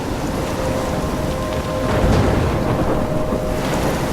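In the video game Life Is Strange, a thunderstorm pours rain steadily while a low rumble of thunder swells midway and then fades back into the hiss of the downpour.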